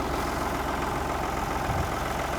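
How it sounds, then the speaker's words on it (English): A tractor engine idles steadily at a constant low rumble, close by and continuous throughout, with no voices over it. "he's gonna get on the tractor and it's already running"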